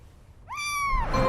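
A single cat meow from a 2025 movie, rising and then falling. It comes in clearly at close range against a quiet background and is followed by a faint low rumble.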